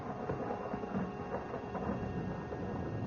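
Low rolling thunder of an approaching storm, a continuous dull rumble with rain-like hiss, moderately distant and steady.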